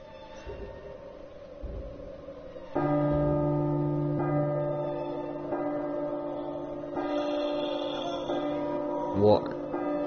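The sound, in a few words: clock chime in the video game P.T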